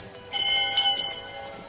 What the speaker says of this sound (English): Cue the meme with the bell.